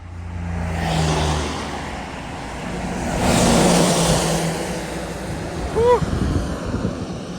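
Cars and trucks rush past on a narrow Polish village road with no shoulder, broadband roar swelling and fading twice amid gusty wind, heard from the roadside on foot.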